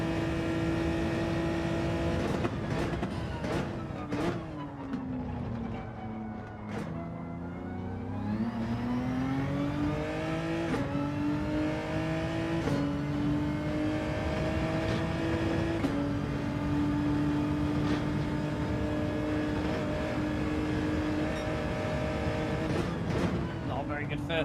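A Genesis race car in Gran Turismo 7 during a daily race, engine revving and climbing through gears with shifting whine across a long stretch, with a voice talking over it at times.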